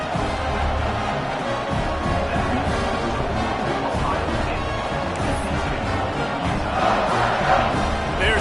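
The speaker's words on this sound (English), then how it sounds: "this crowd now ready to get behind them" A football stadium crowd roars and cheers steadily at a Utah game, a dense, continuous wall of noise with a commentator talking over it.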